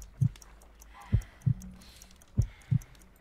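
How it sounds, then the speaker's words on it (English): Heartbeat in the Sherlock Holmes: Crimes and Punishments video game: slow, soft low thumps in loose pairs, about five beats over a few seconds against a quiet hum, with no talking. "I need to concentrate and count the heartbeats."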